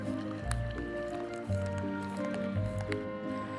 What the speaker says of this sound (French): Nous devons verser de l'eau dedans